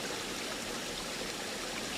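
Spring water pours over small waterfalls into a pool as a dense, steady rushing wash, close and continuous with no talking.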